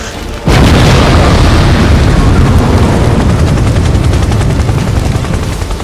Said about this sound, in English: The fire creature just blew up the police copter!